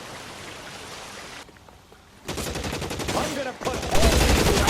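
Gunfire in the LA Noire video game: dense bursts of rapid shots in two loud stretches, separated by a quieter lull, with a brief spoken phrase.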